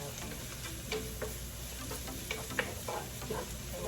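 Garlic frying golden brown in a pan on a home kitchen stove, with a steady sizzle and scattered ticks and stirring scrapes, moderately loud and continuous with no talk.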